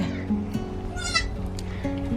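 Newborn surprise baby goats bleating on a farm, a few short wavering bleats close by with a mother goat nearby, over a steady low background hum.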